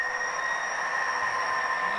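A model train runs at a Columbia River railroad club layout, its onboard sound system giving a steady, continuous hum with sustained tonal whine and rumble, fairly loud and unbroken throughout.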